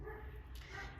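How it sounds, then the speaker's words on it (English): Neighbor's dogs barking, faint and distant under a steady room hum. "those are the neighbor's dogs that apparently have gone crazy"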